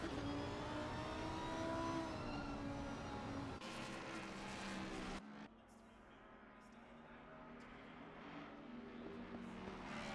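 Race car engines in the sim racing game Assetto Corsa Competizione at Mount Panorama, a continuous loud roar of engines with rising and shifting pitch, dropping briefly midway before building again.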